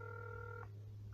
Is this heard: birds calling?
no